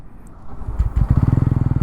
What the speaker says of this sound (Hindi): अब बाइक स्टार्ट करते हैं।